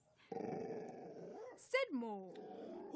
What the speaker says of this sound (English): He barked and growled.